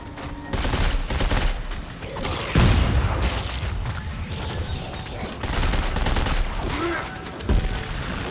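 Dead Space 3 gameplay gunfire pops in bursts, with a couple of heavy booming shots standing out among mechanical clatter and dense in-game noise.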